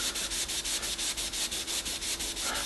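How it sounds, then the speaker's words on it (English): A rag loaded with Brasso rubs back and forth along a tarnished brass tube from a vintage NuTone door chime, giving a close, rhythmic swishing scrub of even strokes with no voices. "How much do you have to rub the tube? Well, a whole lot."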